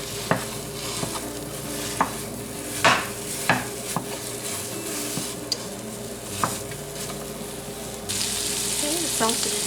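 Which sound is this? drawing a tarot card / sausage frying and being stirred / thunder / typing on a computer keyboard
sausage frying and being stirred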